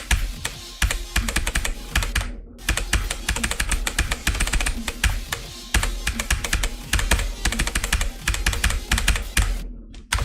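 A computer keyboard is typed on rapidly and continuously, dense clattering keystrokes in quick runs with two short pauses, close and fairly loud, with no voices.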